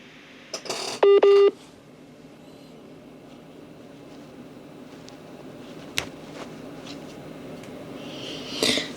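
A mobile phone gives a short burst of sharp, loud electronic tones while it reconnects, then a quiet stretch with a faint background hum and a few soft clicks.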